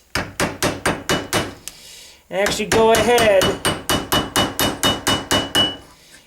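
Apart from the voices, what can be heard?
hammer peen mushrooming nail pins on a metal surface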